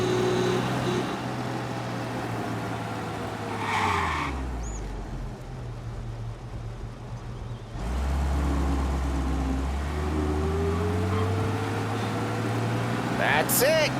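A car drives through city streets in Mafia Definitive Edition, its engine droning steadily, then dropping and swelling again as it slows and speeds up. Voices talk over it at times.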